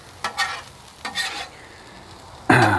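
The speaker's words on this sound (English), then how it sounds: "The onions are now finally starting to turn a nice golden brown, getting nice and caramelized." Onions fry and caramelize in a pan, with bursts of stirring and scraping, quieter sizzle in between, and a louder surge of frying near the end.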